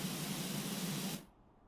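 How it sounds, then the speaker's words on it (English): A pressure washer in the video game Power Wash Simulator sprays at maximum as a steady, loud hiss for about a second before cutting off abruptly. "We're going maximum in the spray."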